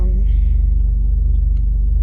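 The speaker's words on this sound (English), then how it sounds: "now I'm in my car. Final drive to go put it into storage" A car rumbles low and loud from inside the cabin while driving, a steady throbbing drone with a brief faint higher tone near the start.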